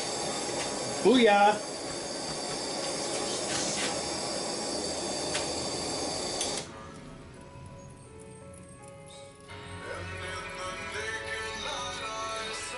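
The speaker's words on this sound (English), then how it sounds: "we're just going to dunk it right in the quench oil" A hot O1 tool steel knife blade plunged into quench oil gives a sharp hiss that fades into a long, steady sizzle, with a brief loud exclamation near the start and a quieter tail.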